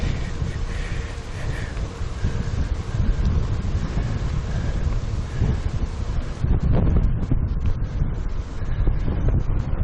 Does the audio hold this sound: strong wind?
yes